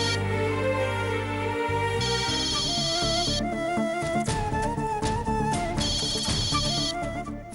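A phone's ringtone plays in a Tamil TV serial scene, a steady melodic electronic tune with bright repeating bursts and a low tonal bed, loud and continuous with no one speaking.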